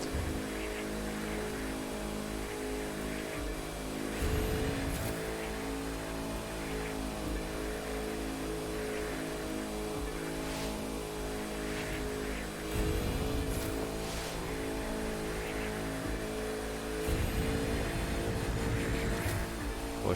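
A Bugatti Chiron racing in The Crew 2 video game, a steady high-speed engine drone held at length with periodic surges as gears shift, loud and continuous with no talking.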